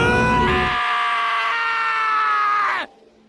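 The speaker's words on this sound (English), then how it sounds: "I heard screaming." A long, piercing scream in the game Danganronpa: Trigger Happy Havoc holds for nearly three seconds, loud and tonal, then cuts off abruptly into near silence.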